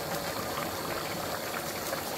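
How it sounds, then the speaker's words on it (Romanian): Spaghetti boiling in a pot of water for a Bolognese, a steady, close bubbling hiss with no break and nobody talking. "După care încep să se fiarbă și spaghetele"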